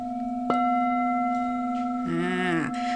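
A 9-inch crystal singing bowl tuned to G sharp rings with a sustained, pure, steady tone, struck once with a light knock and later rubbed, giving a brief wavering swell in the overtones.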